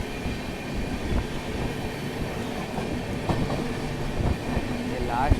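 An old ICF-coach passenger train from Patna to Mokama running on rails, a continuous rumbling roll with faint clicking wheel beats and a brief metallic squeal near the end.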